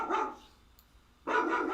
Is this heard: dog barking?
yes